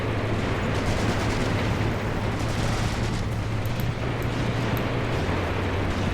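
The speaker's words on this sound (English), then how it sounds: "That must be the machine gun being used." Sustained machine-gun fire from a 7.92mm Mauser weapon in a WWII tank battle in Graviteam Tactics: Mius Front, a dense continuous roar of shots and battle noise over a low hum, with no clear gaps between bursts.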